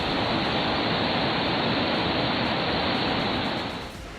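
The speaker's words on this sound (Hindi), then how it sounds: "पानी की गर्जना ऐसी कि कलेजा कांप जाए" Roaring floodwater of a swollen river in the hills of Uttarakhand, a dense, steady, loud rush of churning water that continues unbroken before dipping slightly at the very end.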